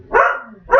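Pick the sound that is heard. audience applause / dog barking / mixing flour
dog barking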